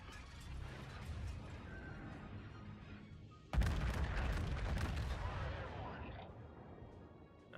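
Battleship main guns firing from the New Mexico in a World of Warships ranked match, a sudden loud booming salvo midway that rolls and rumbles before fading, after quieter game ambience and mechanical noise.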